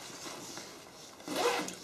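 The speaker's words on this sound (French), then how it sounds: "On va retrouver une fermeture éclair ici avec" The zipper on a Tasmanian Tiger TT Tac Sling Pack 12 is pulled in a quiet, close pass, with a brief louder rasp near the end.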